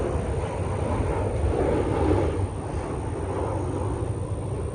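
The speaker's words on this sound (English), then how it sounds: "my bad for the airplane" A propeller or jet airplane passes overhead, its broad roar loud and steady, then easing slightly as it moves away, with no talking over it.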